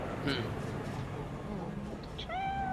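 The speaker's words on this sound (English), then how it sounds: "Oh, we got to pet the cat. Nice. Hairless cat though." A hairless cat in the video game Cyberpunk 2077 lets out a couple of short, tonal meows near the end, sitting amid steady in-game background noise.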